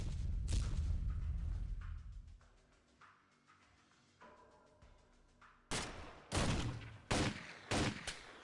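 Gunfire in an XCOM video game: a heavy opening blast, then a pause with faint mechanical ticks, followed by a series of sharp, loud shots in quick succession.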